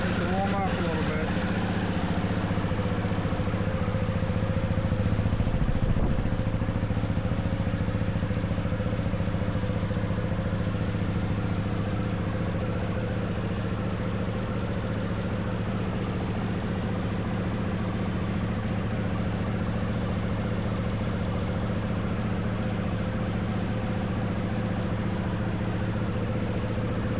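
A 2009 BMW G450X motorcycle engine warms up at a steady idle, a continuous low single-cylinder rumble with a brief blip early on, close and loud throughout.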